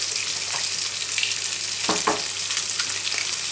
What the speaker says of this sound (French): Je vais mettre l'ail et l'oignon et on va venir bien les faire dorer.